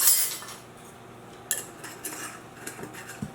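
A container of dried oregano shaken over spaghetti sauce while cooking, a few faint rattling clinks and taps in a quiet kitchen, short and close with no talk.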